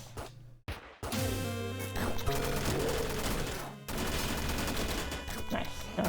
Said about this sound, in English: Machine gun, yes.